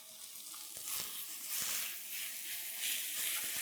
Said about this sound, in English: So we're going to start off by browning about a pound of ground beef.